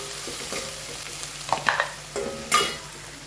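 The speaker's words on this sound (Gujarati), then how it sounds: "લાલ મરચું, તમાલપત્ર અને ડુંગળી, ટામેટા, લીલું મરચું ચોપ કરી એડ કરી દઈશું." Chopped red chili, bay leaf, onion, tomato and green chili frying in a pan for kadhi, a steady sizzle with a few scraping stirs and clinks of a spoon, close and alone.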